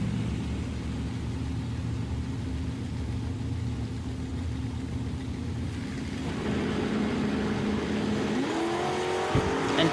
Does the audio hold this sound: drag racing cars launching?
yes